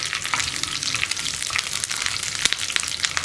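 Curry leaves and dried red chillies fry with onions for an onion sambar, giving a steady crackling sizzle with sharp pops and spits, loud and close, with the sound of stirring and no talking.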